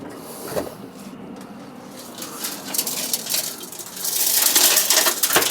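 Broken glass spills and tinkles out as the boot of a stolen-and-recovered Abarth 595 is lifted open, scattered crunchy clatter that builds into a louder, denser shower of fragments toward the end, no voices.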